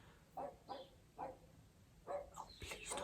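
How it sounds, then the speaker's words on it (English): A neighbour's dog barking nearby but a little muffled, a run of short yaps in a loose rhythm with a brief pause, then a few more barks and whimpers over a quiet indoor background. "It's my neighbour's dog"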